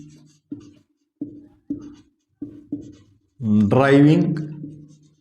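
Six short scratchy marker or chalk strokes on a board, written at a steady tapping rhythm during a lesson, followed by a voice speaking.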